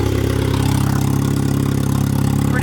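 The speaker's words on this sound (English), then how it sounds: "Sound of a good old turbo single cam." A turbocharged single-cam Honda D16 engine in a Civic idles steadily, with a loud, continuous low rumble that holds even throughout, close by and with no voices.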